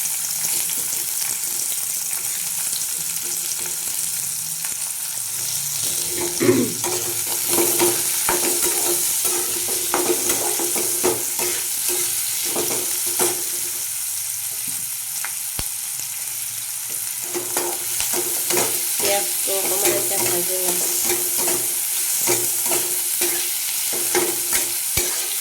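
Raw garlic frying in a little leftover oil for a meat dish, a steady sizzle with spatula stirring and scraping that runs throughout, close and alone with no talk.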